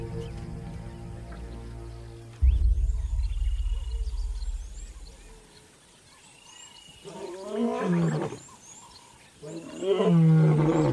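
Lions of a pride roaring in an African valley, with deep, rumbling calls rising out of a low background drone and two louder, nearer bouts of roaring toward the end.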